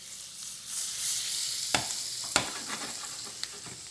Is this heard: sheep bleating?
no